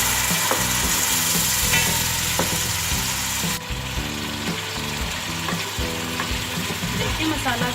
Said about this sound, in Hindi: लहसुन अदरक का पेस्ट, मसाले, इसको अच्छी तरह से भून लेना है।